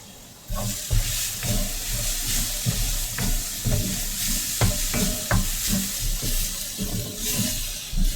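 Apples frying in a hot pan with steady sizzling and stirring noises, occasional sharp clinks and scrapes over a continuous low crackle, close and fairly loud.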